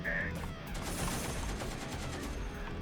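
Upgraded machine gun and rifle fire from enemy goons in a war game, a dense, continuous rattle of rapid shots that stays loud and unbroken throughout.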